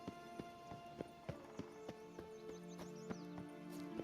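A donkey's hooves clip-clop in The Witcher 3, a run of light, evenly spaced knocks close by over a soft, steady background with faint tonal hums.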